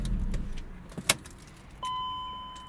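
A metal key clicks and turns in the ignition of a track-prepped 2005 BMW E46 M3 Competition with a 6-speed SMG, bringing a sharp snap followed by a steady electronic chime tone over a low idle rumble.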